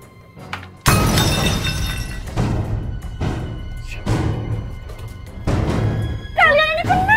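Ceramic dishes smash by accident at a meatball-soup stall: one loud crash of breaking crockery followed by several more clattering impacts and shards settling, ending in a sharp squeal.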